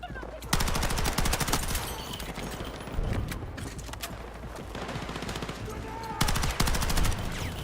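A submachine gun fires in Battlefield 6 in rapid bursts, with a loud volley at the start, another around the middle and a final dense burst at the end, over continuous battlefield rumble.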